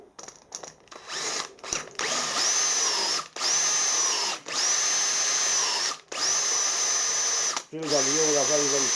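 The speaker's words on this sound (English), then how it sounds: "So now we can use that to drill the hole." Power drill bores a lubricated hole through a steel drill gauge for a thread repair insert, running in several loud sustained bursts with short pauses between them, close up.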